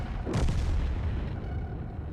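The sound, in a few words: tank gun firing in World of Tanks video game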